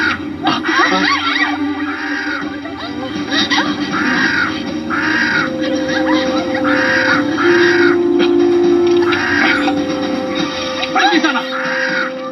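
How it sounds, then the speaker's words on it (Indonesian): Wild birds caw repeatedly in a steady series of harsh calls, loud and close, over a dense layer of agitated voices and shouting. "Burung-burung itu sangat liar."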